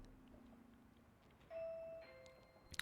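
A train announcement chime from the video game Eastward rings out as a faint two-tone electronic ding-dong over quiet background hum, ending with a brief sparkly flourish.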